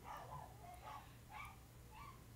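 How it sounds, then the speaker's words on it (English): A dog barks and yips in a few short, sharp bursts at a moderate distance, spread across a couple of seconds over a steady low hum. "Oh, there's the dog."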